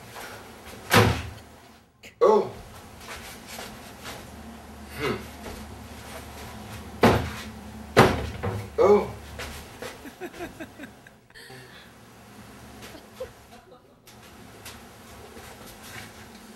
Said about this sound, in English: I put magazines into a cabinet. I close the doors